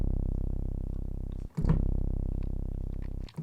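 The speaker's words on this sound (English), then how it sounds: "here's a very, very low C." A very low sustained C note on a Mai Tai synthesizer bass, deep and buzzing, played alone with a brief gap in the middle where the note is retriggered, then held on.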